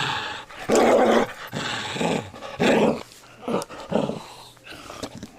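A dog named Sam growls playfully in bursts, loud and close, with rumbling snarls broken by short pauses and a few yips.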